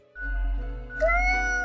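A cat in a video game gives a drawn-out, tonal meow over a low droning background, rising in pitch partway through.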